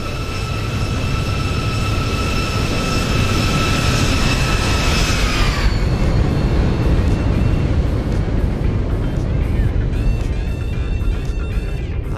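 A Boeing 737 in the X-Plane 12 flight simulator roars loudly through the landing flare, with whining engine tones that fade midway into a dense rumble and a few rattling clicks.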